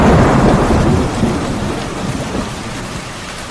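A thunderstorm with a loud, close roll of thunder rumbling over steady heavy rain, the deep rumble slowly easing while the rain hiss continues throughout.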